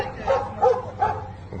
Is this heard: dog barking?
yes